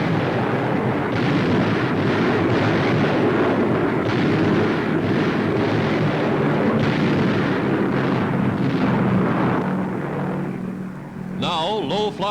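Heavy, continuous rumbling blasts from tons of delayed-action bombs dropped by low-flying B-25s on Japanese batteries, a dense, loud barrage of explosions throughout, with a brief different noise at the end.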